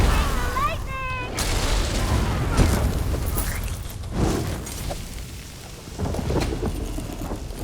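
Lightning spell cast in a fantasy video game set in Tamriel, a sharp crackling burst followed by heavy rumbling thunder and rain-like hiss, loud and continuous with a few booming swells.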